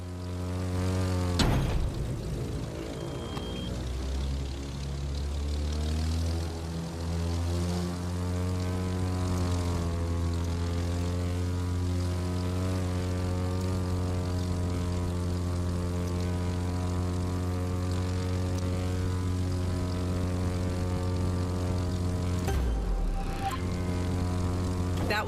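A propeller airplane flies low over treetops in the racing game The Crew 2, its engine a steady, loud drone that holds for the whole stretch, swelling slightly as it passes, with no talk.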